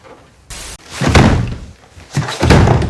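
A door is bashed in with several heavy, close thuds and slams, each impact booming and rattling in a short irregular sequence.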